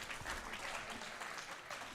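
A crowd at a world classic powerlifting championship claps in steady, dense applause, heard at a moderate distance with no pauses.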